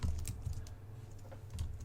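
Keys clatter on a computer keyboard in a handful of quick, uneven taps close to the microphone, separated by brief pauses with no voice over them.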